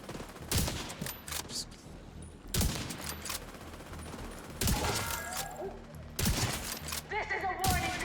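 Gunfire in The Division video game: bursts of rapid automatic shots alternate with single loud cracks and mechanical clicks, with a person talking over the action between volleys.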